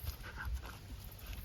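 An American Pit Bull Terrier female panting softly close by, quick rhythmic breaths repeated over a short span, faint and low in level.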